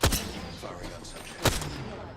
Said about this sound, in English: The enemies are shooting at me.